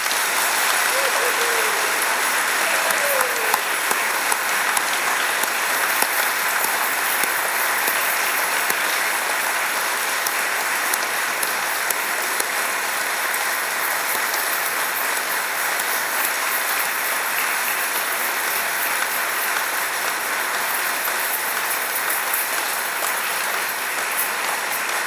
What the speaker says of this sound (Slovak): Odmeňme ich, prosím, všetkých potleskom.